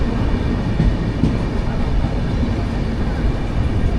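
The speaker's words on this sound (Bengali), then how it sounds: "দুর্গাপুর থেকে কিন্তু আমাদের ট্রেন এই মুহূর্তে ছেড়ে দিল" A passenger train from Durgapur rolls steadily along the line toward Raniganj, giving a dense, constant rumble with faint wheel clatter, heard from inside the carriage with no one speaking.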